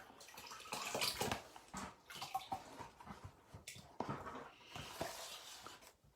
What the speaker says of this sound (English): I'll just pour it back in my water bucket